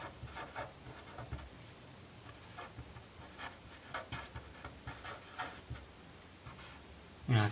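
Pen scratching on paper while solving equations, close steady strokes with rhythmic scribbling bursts throughout and a louder knock at the end.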